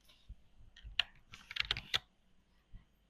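Quiet, close keyboard typing: a short burst of irregular keystrokes entering a search in Premiere Pro's effects panel, with a lone tap trailing off after a pause.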